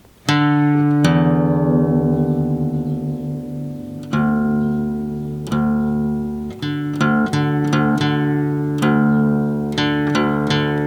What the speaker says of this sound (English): tap the open D string, then the low E string, and match them